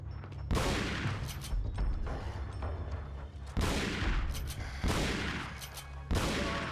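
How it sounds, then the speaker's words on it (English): Several shotgun blasts go off in the video game Resident Evil 4, each a loud, sharp boom with a decaying tail, spaced a second or more apart, with no talking. "4 shotgun shots to the back"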